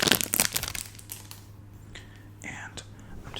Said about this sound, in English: I'm just going to be brushing you. Brushing the mic